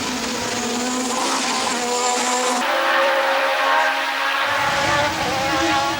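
Formula One race cars screaming past, Ayrton Senna's McLaren among them, with high-pitched engine howl, a sharp gear change midway, and a steady loud roar throughout.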